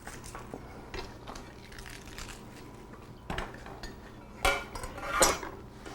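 Chef's knife slicing through cabbage on a cutting board, a few crisp crunching cuts with knife taps, close and alone.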